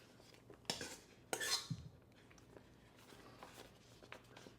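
A spoon scooping keto protein mixture into a pastry bag, giving two brief, close clinks and scrapes followed by soft, faint rustling and tapping in a quiet room.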